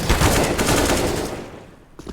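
Rapid gunfire in a shooter video game rattles loudly for about a second and a half, then cuts off, leaving a brief faint clatter.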